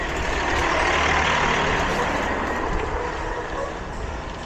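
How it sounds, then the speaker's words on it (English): A truck rumbles loudly and close beside a cyclist on the Wheaton, Illinois Prairie Path, a broad steady roar of engine and wind noise that fades slightly toward the end. "gonna get by this truck"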